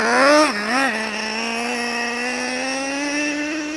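A Traxxas Revo 3.3 nitro RC truck engine runs close and loud, blipping twice in quick revs before settling into a sustained high-pitched whine that slowly climbs in pitch.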